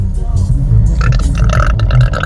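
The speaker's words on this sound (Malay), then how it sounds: "Sendawa tu padu." A long, rumbling burp, loud and close, running over about two seconds with a strained, guttural texture and some higher noisy bursts toward the end.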